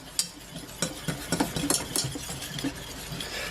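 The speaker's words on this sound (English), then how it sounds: "Let's put in some gluten-free flour and we're going to mix it up" Gluten-free flour being stirred into a runny dairy-free sauce in a pan, giving a series of scraping, clinking stirring strokes at an irregular rhythm, fairly close, with no talking.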